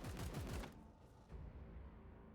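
Heavy suppressive gunfire in Warhammer 40k Chaos Gate: Daemonhunters, a rapid burst of repeated booming shots for about half a second, then a low rumbling tail and a softer second thud.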